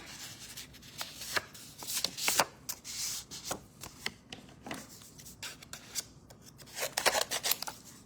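Scissors cutting paper petals for a Christmas paper flower, with a close series of crisp, irregular snips and faint rustling of paper between them.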